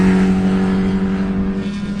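A race car on the track at Carolina Motorsports Park passing close by with a loud, steady engine drone and a strong tonal whine that shifts slightly as it goes past, no voices.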